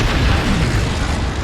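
Weapon fire in the MechWarrior Online video game, a dense booming blast with broad explosive rumble sustained across the moment, loud and close, no voices.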